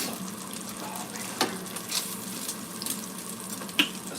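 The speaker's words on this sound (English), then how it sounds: "Some burning bacon." Bacon sizzles and crackles in a hot pan, a steady close hiss with occasional sharper pops and spits, no talking over it.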